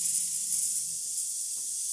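A Breville Barista Express steam wand hisses steadily, a bright continuous rush of steam heard close with no talk.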